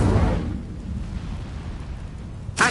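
A fiery Incendio spell blast from the wizarding game Hogwarts Legacy bursts out as a loud, low rumbling whoosh that slowly fades, with a sharp crackling flare at the very end.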